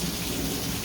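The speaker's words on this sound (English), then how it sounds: "I'm just out here, listen to the rain" Steady, dense rain pours down outdoors, a constant close hiss with low rumbling beneath it.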